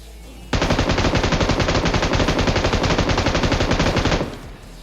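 Sustained automatic gunfire in the mobile game BGMI, a dense rapid stream of loud shots lasting several seconds before cutting off.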